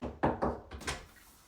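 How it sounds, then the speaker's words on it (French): A door swings shut with a few dull, close thuds in quick succession, followed by a fading quiet. "et ferme la porte derrière toi, s'il te plaît"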